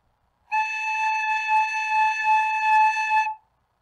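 A recorder sounds the note A with a steady breath: one clear, sustained whistle-like tone held for about three seconds, alone and close.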